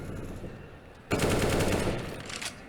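Sustained automatic gunfire in a competitive shooter match, fired through a wall, bursting in loud and continuous after a quieter stretch of ambient game noise.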